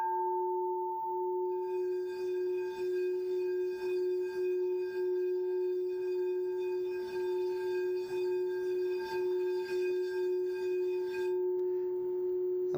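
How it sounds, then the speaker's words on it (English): A quartz crystal singing bowl tuned to F sharp hums one steady, pure tone with bright overtones, ringing continuously and evenly with a faint pulsing shimmer, alone and fairly soft. "we call it a singing bowl because it's singing to you right now."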